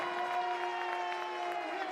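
Home crowd at a college men's basketball game between St. Francis (Ill.) and Indiana University Northwest, a steady sustained roar of cheering and applause filling the gym, even and continuous throughout.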